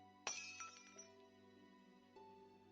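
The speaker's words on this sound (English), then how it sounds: "I hear the sound of shattering glass." A glass vial shatters in the visual novel Cinderella Phenomenon: one sharp crash followed by tinkling shards, set over a steady sustained music bed.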